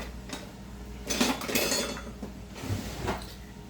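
Metal serving utensils clink and scrape against a pot or dish as baked beans mixed with shredded rabbit are scooped, giving a few soft, close, irregular knocks.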